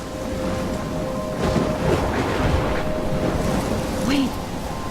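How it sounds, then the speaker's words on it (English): Thunderstorm in the video game Life is Strange: steady heavy rain with rolling thunder swelling in the middle, a dense continuous roar throughout. "I'm trapped in a storm?"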